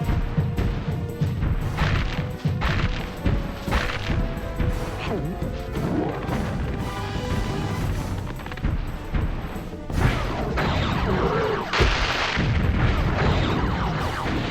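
Bombs explode in the video game Spyro 2: loud, repeated crashing booms pile up over a dense, continuous bed of game sound that stays loud throughout.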